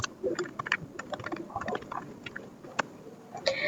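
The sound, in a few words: typing a ping command on a computer keyboard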